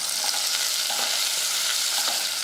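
Shallots sautéing in hot oil with mustard seeds, dried red chillies and curry leaves for rasam, giving a steady close sizzle and crackle with faint stirring scrapes throughout, no voices.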